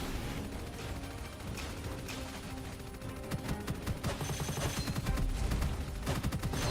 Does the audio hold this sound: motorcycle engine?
no